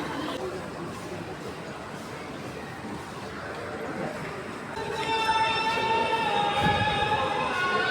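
A children's ride train at Jamuna Future Park rumbles steadily amid crowd chatter, then sustained horn-like tones sound repeatedly through the second half, fairly close and over a busy background of voices.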